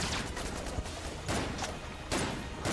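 Rapid bursts of gunfire aimed at a turret in the video game Enter the Gungeon, several sharp volleys of shots in quick succession with short pauses between.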